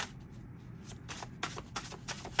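Old Soul Oracle cards being shuffled by hand in a quiet room, a soft rustling riffle that swells into several crisp, close bursts of card slaps near the end, with no talking.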